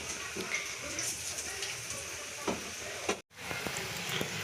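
Pakoras frying in very hot oil, a steady bright sizzle and crackle close by, with faint clinks and a brief dropout before the hiss resumes.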